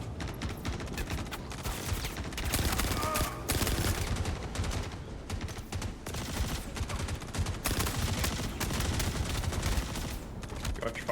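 Continuous automatic fire from the FS9 gun in the military video game Arma, a dense, loud, unbroken roar of shots with heavy low rumble, close-up and sustained throughout.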